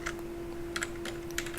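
Keys clicking on a computer keyboard in a short, uneven run of light taps, close and fairly quiet over a faint steady electrical hum.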